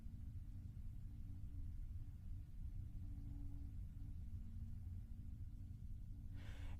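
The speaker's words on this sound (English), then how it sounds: "And that's liftoff." Low, steady rumble of a Rocket Lab Electron rocket lifting off on its 39th launch, a continuous distant roar heard from afar that holds even throughout and ends in a brief brighter burst.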